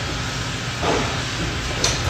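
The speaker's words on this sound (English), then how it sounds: "I'm going to show you how this door does not close by itself." A walk-in oven door at a Walmart swings open with a soft rolling swish, followed about a second later by a sharp latch click, all over a steady background hum.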